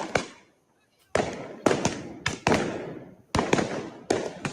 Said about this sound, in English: Those are fireworks.